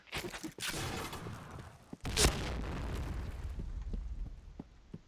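In-game grenade explosion during a 2v2 match: a sharp, loud boom bursts out in the middle of the clip over continuous rumbling game noise and scattered smaller pops.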